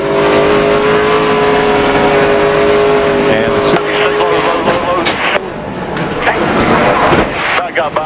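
Stock cars race on a track, engines roaring loudly and continuously as they pass, with a sustained revving drone and a voice talking over them.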